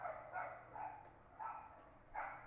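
A dog barks in a string of soft, moderate yelps spaced in short bursts, somewhat distant and muffled, with no talking.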